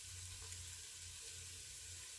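Onion, carrots and celery sizzle steadily in a pot, a close, even frying hiss that holds without pause alongside a low hum.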